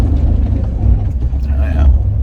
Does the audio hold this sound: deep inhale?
no